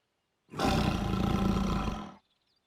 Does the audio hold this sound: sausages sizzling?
no